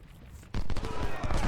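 Musket and artillery gunfire from Ultimate General Civil War at Chickamauga, a sudden burst of overlapping shots after a quiet start, loud and dense, continuing as ragged volleys for about a second.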